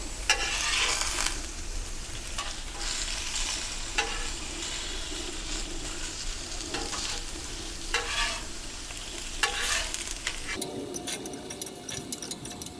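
Thin potato slices seasoned with salt and pepper fry on a Pit Boss Ultimate Griddle, a constant loud sizzle broken by periodic scraping and clinking of a spatula against the flat-top.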